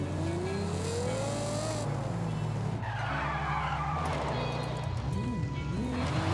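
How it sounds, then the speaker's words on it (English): Car in the driving game Forza Horizon 5, engine revving and rising in pitch through gear changes, with tyre skidding and squeal layered over continuous game audio and music. "I will drive further away so I can pick up speed before my stunt."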